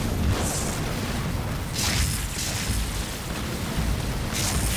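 Tank wrecked in Halo Wars 2, heavy booming blasts and crackling explosions rolling continuously through a dense battle din, loud and close with repeated bursts layered over low rumble.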